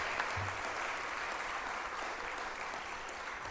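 A college convocation audience applauds steadily to welcome a speaker, a dense, even wash of clapping from a large indoor crowd, moderately distant and unbroken.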